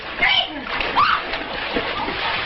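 Someone thrown into a swimming pool, a burst of splashing and sloshing water mixed with lively voices talking and calling out over it.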